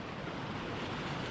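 Ocean waves in the Caribbean heard from a bamboo raft at sea, a steady, dense wash of surf with wind noise running through the short stretch and no voices.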